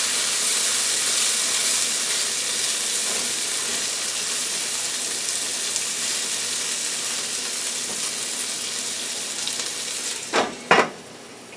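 Oil in a frying pan sizzles with a steady, loud hiss under a seafood ramen noodle stir fry, broken near the end by two sharp bursts of spatter.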